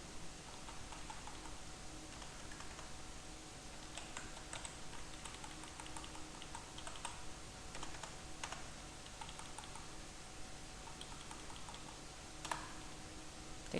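Rapid, irregular clicking of computer keyboard keys as a MySQL insert query is typed, faint and close with a quiet background, keystrokes running in bursts with short pauses.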